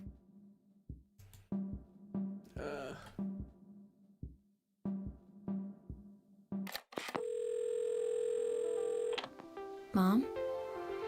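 Old telephone in the PC puzzle game Assemble with Care: after clicks and handling taps with talk over them, a steady, loud dial tone holds for about two seconds, then cuts off into a short ringing chirp.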